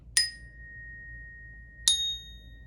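Two separate strikes on a small orchestra bell tuned to B flat, each giving a bright metallic ding that rings on with a long, clear sustain.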